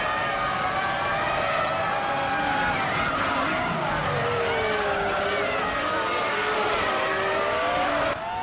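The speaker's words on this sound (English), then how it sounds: "Dishonored Fox is driving a Williams FW20" Williams FW20 Formula One car in a racing video game, its high-revving engine whining steadily and shifting pitch up and down as it races, loud and continuous with other cars' engine tones layered underneath.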